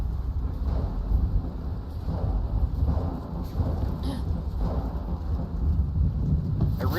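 Storm Shout thunderstorm in the Skyrim-based game LoreRim: a loud, steady roar of rain and rolling thunder fills the scene, with a few sharper crackles and no talking.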